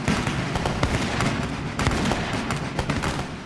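A musket volley in a battle, a rapid, loud crackle of many overlapping shots that burst again and again without a break.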